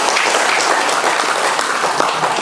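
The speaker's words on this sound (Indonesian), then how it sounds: "Kita beri aplaus." An audience at a regional youth organisation congress in Teluk Wondama claps steadily, a dense, loud wash of applause with no break throughout.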